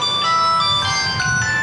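A mobile phone ringtone plays as a bright, steady electronic melody of sustained tones, loud and close, with no voices over it.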